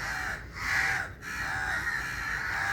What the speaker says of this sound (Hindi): कौवे भी वही बोल रहे हैं.